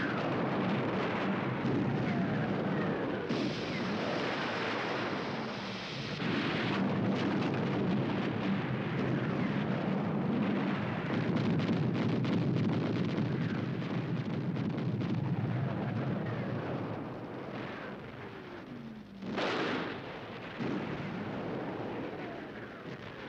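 Bombing and shelling during the siege of Leningrad in 1941, a continuous heavy roar of explosions and artillery thunder with rumbling booms and a sharp crack near the end.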